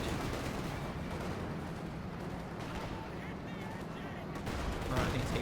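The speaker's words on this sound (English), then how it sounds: "Right, I think it's heat rounds they're using." Gunfire and impacts from HEAT rounds in a Company of Heroes 2 match, with muffled shots and explosions rumbling at moderate level beneath game sounds, a brief burst of louder fire near the end.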